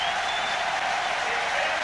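A packed stadium crowd roars and applauds without a break during a record-breaking men's 5000m race in Zurich, a dense, loud wall of cheering that holds steady throughout.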